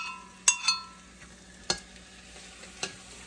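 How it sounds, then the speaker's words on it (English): A spoon stirs corn salsa into a taco bake mixture of cooked meat in a pan, giving a few sharp scraping clinks spaced apart over faint sizzling, close and quiet, with no voices. "And mix the corn salsa in"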